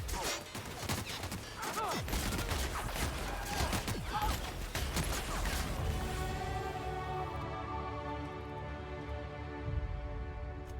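Bursts of gunfire and impacts in the video game The Outer Worlds ring out loudly over several seconds before giving way to a sustained tonal ring.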